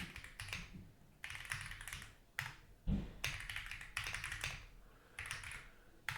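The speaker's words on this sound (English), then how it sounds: "I'm just going to type in SP Zorro" Quick bursts of typing on a computer keyboard, close and crisp, come in several clusters of clicking keys separated by brief pauses, with a louder single tap partway through.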